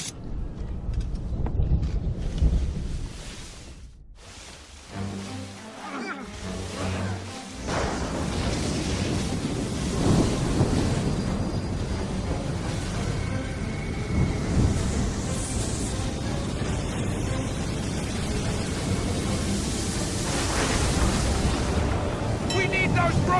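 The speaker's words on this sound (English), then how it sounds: "You wish us to sail into the storm?" Storm at sea in Assassin's Creed 3: a sustained roar of wind and crashing water with thunder rumbles throughout, loud and continuous, with a brief lull early on and voices shouting over it.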